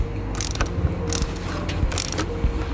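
A hand ratchet tightening a car battery terminal during a battery replacement, giving three quick bursts of sharp metallic clicking separated by short pauses, close and fairly loud.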